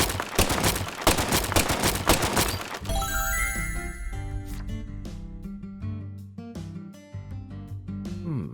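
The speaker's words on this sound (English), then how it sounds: "Now this is an intriguing weapon. For a tranquilizer gun, it really packs a punch." Tranquilizer gun firing in Deadly Premonition 2: a quick volley of sharp, punchy shots for about three seconds, then tonal game music and scattered clanks.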